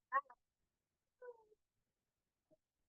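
A cat meows faintly a couple of times nearby, short separate calls with quiet gaps between them.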